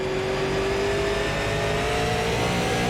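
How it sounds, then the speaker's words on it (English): Race car on the Five Flags oval in the iRacing sim spinning its tires at a green-flag start, the engine roaring loud and steady and close, with a sustained high whine and no voices. "spun the tires up like I do"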